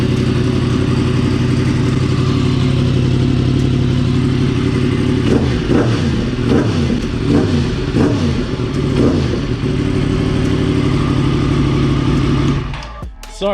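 A 2018 Yamaha MT-10 motorcycle engine idles loudly and close, then rises through several sharp revs in the middle before settling back and cutting off near the end, with no talking over it.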